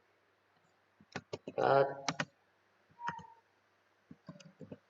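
Clicks of typing on a computer keyboard while entering commands in a Linux terminal, scattered keystrokes in short bursts alongside a voice talking.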